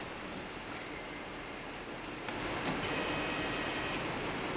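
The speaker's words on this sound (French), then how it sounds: "Cette machine peut imprimer plusieurs rubans simultanément" An SN160 screen printing machine printing several woven ribbons at once, a steady mechanical whir and hiss with faint clicks, growing slightly louder partway through, with no talk.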